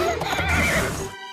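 A horse neighs loudly and close by, a single drawn-out whinny, with faint clip-clop hints of a horse-drawn carriage.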